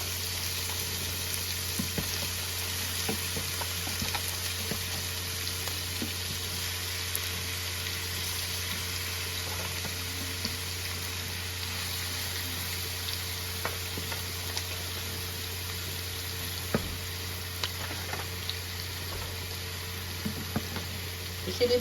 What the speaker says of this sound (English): this is 3 pounds of ground meat that I'll be cooking